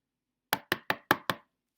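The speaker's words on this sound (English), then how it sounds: "knock, knock" Five firm knocks on a door in a steady, evenly spaced series, loud and close, with silence before and after.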